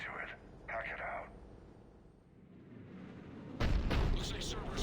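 A heavy cannon fires in the Mass Effect 3 video game, a deep booming blast that bursts in loudly near the end after stretches of game dialogue and ambience.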